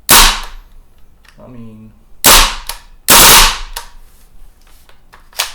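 A WE Apache MP5A3 gas blowback airsoft rifle fires loud, sharp cracking shots up close, single shots and short bursts separated by pauses, with a brief spoken remark between them.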